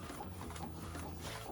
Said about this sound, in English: now it's printing perfectly with, you see, 2 units of design continuously